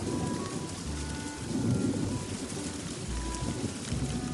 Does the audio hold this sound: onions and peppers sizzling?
no